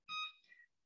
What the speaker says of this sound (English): After 20 minutes, I'll set my timer.